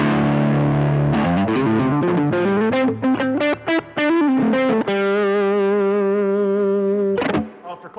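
An electric guitar with single-coil pickups plays through a Klon overdrive pedal, a loud, driven tone with chords and a short melodic run that settles into a long sustained ringing chord, no talking.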